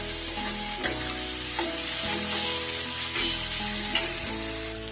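Masala sizzles in a pan as Kashmiri chili powder is sautéed for a bhola fish curry, a steady loud frying hiss broken by several scraping stirs of the spatula.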